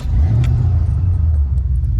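A Foxbody Mustang pulls away with a loud, close, deep engine rumble that holds steady and low through the short stretch, without talk.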